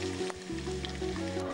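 Besan, gram flour, poured straight into hot oil with hing and chilli sizzles softly and steadily close by, a gentle crackling fry with a faint low hum underneath.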